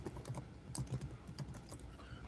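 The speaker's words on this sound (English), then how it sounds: "I'm literally just typing in the link to check everything out." Fingers type on a computer keyboard in a quiet room, soft irregular key clicks that are fairly faint over a steady background hum, with no talk.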